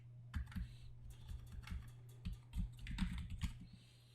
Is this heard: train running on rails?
no